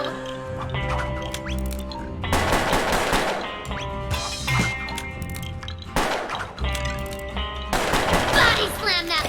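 Revolver gunfire from a twin-revolver gunslinger in the video game Puppeteer, rapid shots crackling in bursts over busy game music and effects, loud and dense throughout.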